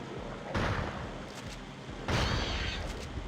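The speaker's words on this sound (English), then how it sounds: "Regular shotgun." Two loud blasts from a regular shotgun with explosive shells in Turok 2: Seeds of Evil, about a second and a half apart, each a sharp boom followed by a rumbling decay.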